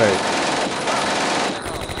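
Rapid automatic gunfire from the WWII-era video game Combat Mission: Beyond Overlord, a dense continuous burst of shots filling the scene at close range, easing slightly toward the end.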